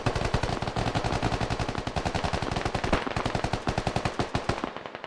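Rapid automatic gunfire in the tactical shooter Squad, loud sustained bursts of closely spaced shots running nearly continuously with a brief break midway.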